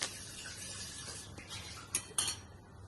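A metal ladle stirs cinnamon, cloves and cardamom in hot ghee in a pot while cooking veg biryani at home, giving soft scraping and light sizzling, then a few sharp clinks of metal against the pot near the end.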